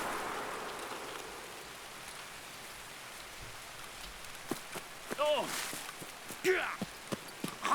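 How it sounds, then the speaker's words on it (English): Footsteps in the video game Escape from Tarkov, a few distinct steps emerging toward the end over a steady rain-like hiss, with faint talk underneath. "Oh, I hear footsteps."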